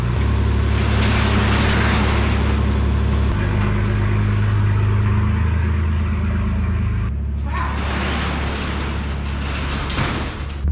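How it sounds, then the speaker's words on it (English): A cold engine idles steadily on choke to warm up in about 3-degree weather, a continuous low rumble with a brief dip near the seven-second mark before the idle resumes. "Instead of trying to rev it, let that choke do its job and warm her up."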